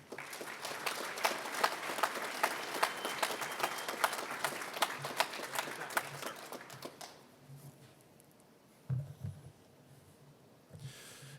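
Audience applause at a college commencement ceremony, steady clapping from a large crowd for about seven seconds welcoming a speaker to the podium, then fading into quiet room noise with a few faint thumps.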